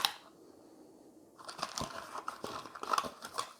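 Sealed red plastic cubes of board game packaging being opened, a burst of crinkling and crunching plastic wrap after a quiet start, close and moderately loud.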